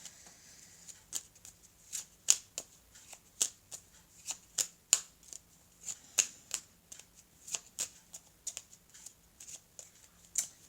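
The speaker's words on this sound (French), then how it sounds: "je vais prendre maintenant 2 petites cartes ici de l'oracle des âmes amoureuses" Oracle des âmes amoureuses oracle cards being shuffled and handled, a quick run of crisp riffling flicks and snaps in an irregular rhythm, close and fairly quiet, with no talk.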